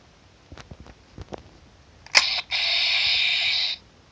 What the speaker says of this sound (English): It makes that morphing sound when they go to morph